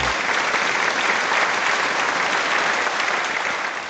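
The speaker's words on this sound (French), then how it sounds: "Maintenant nous accueillons avec des applaudissements" An audience bursts into loud, dense applause to welcome a man onto a stage, sustained clapping that fills the whole stretch without pause.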